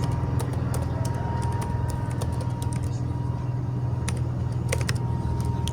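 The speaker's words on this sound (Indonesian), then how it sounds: "selanjutnya kalian ketikkan perintah default" Someone types a router command on a computer keyboard, and quick key clicks come in irregular bursts over a constant humming drone. A few sharper taps stand out toward the end.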